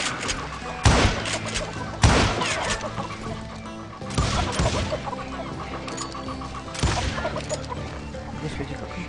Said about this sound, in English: Куры.